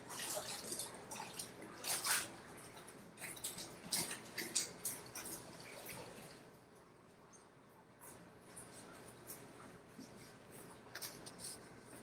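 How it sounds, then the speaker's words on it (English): Hands are washed under running water at a ceramics studio sink, a faint close trickle with irregular splashing, rubbing and dripping that quiets midway and then picks up again. "Let me wash my hands for a second."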